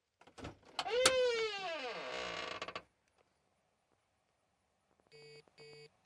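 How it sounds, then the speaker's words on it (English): A truck door hinge squeaking from a worn nylon piece: one loud, drawn-out creak that slides downward in pitch for about two seconds, then silence, followed by two short electronic beeps. "The thing that's squeaking is actually this little fucking nylon piece of garbage."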